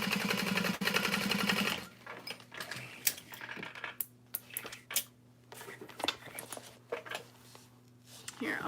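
A sewing machine top stitching a small snow drop bag runs in a fast continuous whir, then stops and gives way to scattered clicks, taps and handling noises up close.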